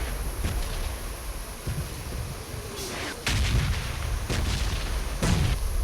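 Grenade blasts and gunfire in a BGMI mobile battle royale match, several sharp booms and cracks spaced across a few seconds over steady game background noise.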